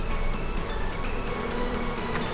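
Honeybees buzz inside an opened hive, a thick, continuous close-up drone of many insects at once, loud and unbroken.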